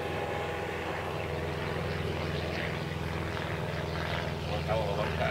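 A low-flying aircraft passes over the Harrison River, its steady engine drone droning continuously and swelling slightly toward the end, heard from a canoe on the water, with the engine hum filling the background.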